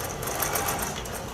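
A sewing machine stitches a quilt block in a fast, steady whirring run of needle strokes, close and continuous for the whole brief stretch.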